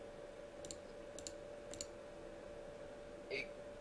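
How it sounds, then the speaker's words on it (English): Computer keyboard keys clicking at a desk during a poker session, three or four faint, evenly spaced click pairs followed by a slightly louder tap, under a steady low hum. "it's like just pounding on the keyboard that's the annoying part."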